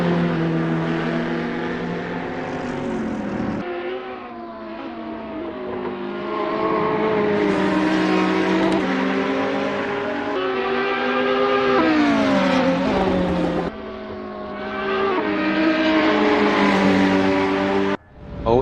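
GT3 race cars, a Ferrari 488 and a BMW Z4 among them, race at Brands Hatch GP in a racing game. A loud engine drones and revs up and down through the gear shifts for the whole stretch, with no voices.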